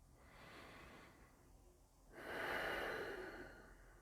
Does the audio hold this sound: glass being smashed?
no